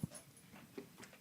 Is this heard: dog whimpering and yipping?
yes